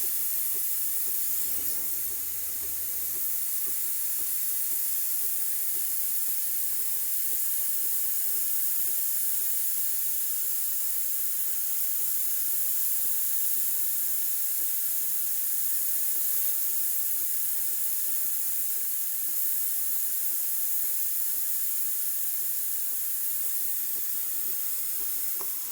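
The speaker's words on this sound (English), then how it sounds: "Hey there, Josh. This is your machine. She's been steaming for about 2 minutes." Steam wand of a Breville Barista Express BES870 espresso machine steaming, a steady unbroken hiss that holds at an even level throughout.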